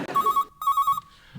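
A telephone rings in two bursts of rapid electronic trilling, each a quick warbling pulse train, separated by a short gap; the ringing is loud, close and clear, with no voices over it.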